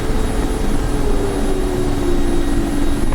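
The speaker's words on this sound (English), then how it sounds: "Stop APU turbo engine, pressing Stop APU button on the left side." Mi-24P Hind helicopter in the DCS flight simulator as its APU turbo engine is shut down: a loud, steady turbine drone with a faint tonal whine that drifts slightly, filling the whole cockpit without breaks.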